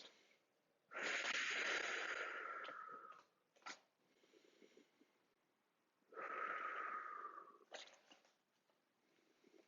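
Slow, deep breaths drawn in and let out during a beach yoga session, two long broad breathy swells each lasting a couple of seconds, with short softer sounds between them, close and fairly quiet.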